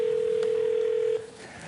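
A steady telephone dial tone while a viewer in Dilworth, Minnesota is being called, holding loud and level before cutting off abruptly near the end, followed by faint background noise.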